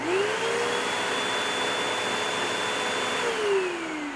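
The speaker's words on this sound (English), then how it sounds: "Next, we'll be stepping it up to a slightly larger motor at 12 amps for this vacuum." A 12 amp vacuum cleaner powered from an Anker SOLIX F3000 power station whirs up from start, holds a steady loud whine with a high tone, then begins spinning down near the end.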